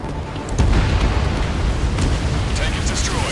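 A tank blows up in the Ace Combat combat-flight game, a loud booming explosion that erupts and rolls on with sustained rumbling debris and noise for several seconds.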